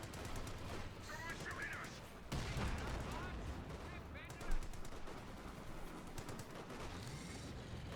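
Tank and anti-tank cannon fire, including a 6-pounder hitting a Panther, in Company of Heroes 2, heard as repeated gunshots and bursts over a constant battle rumble, with one sharper blast midway.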